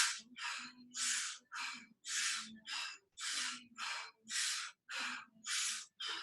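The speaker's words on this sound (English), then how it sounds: "So inhale and exhale through the mouth." A person doing yoga breathing: a steady, rhythmic series of about a dozen loud, close, breathy inhales and exhales through the mouth, evenly paced with no pauses or speech.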